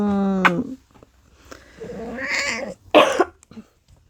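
A pet cat makes a few short, close vocal sounds, including a rising meow and raspy, breathy cries, with scuffling movement between them as it climbs up to its owner.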